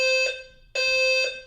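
A building fire alarm blares in two loud, steady electronic beeps, each held for about a quarter to half second, with a short quieter gap between them.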